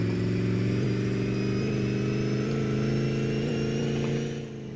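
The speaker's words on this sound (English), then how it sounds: "Right, so we are testing our 5th gear." A Chevelle's engine in the My Garage driving game pulls in fifth gear with a loud, steady, harmonic drone. The pitch holds nearly constant before easing off at the end.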